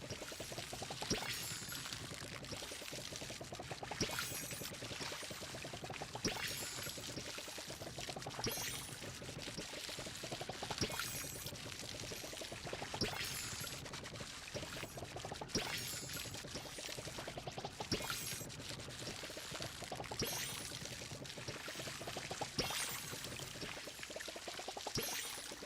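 Water pouring steadily from a watering can over crops in the farming video game Palia, continuous splashing stream with recurring surges, close and alone without talk.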